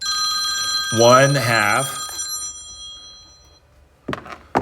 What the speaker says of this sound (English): Sorry about the interruption on my phone.